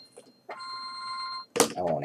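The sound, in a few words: telephone ringing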